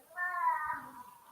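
A cat gives one drawn-out, fairly faint meow that rises and then fades, heard close by in a quiet room.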